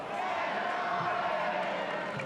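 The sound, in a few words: football crowd cheering for Elversberg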